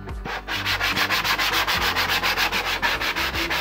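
Coarse sandpaper rubbed over a workpiece by hand in fast, even back-and-forth strokes, about four per second, loud and close with a steady gritty scrape and no talking.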